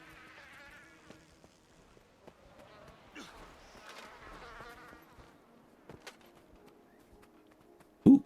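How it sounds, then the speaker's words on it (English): Bee swarm in Guild Wars 2 buzzing softly and steadily for several seconds, a faint insect drone beneath scattered game effects, ending in a sudden loud thump. "hey, bee swarms."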